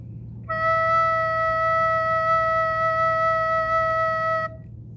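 A recorder plays a single sustained E note, clear and steady for about four seconds over faint background hum, with no talking.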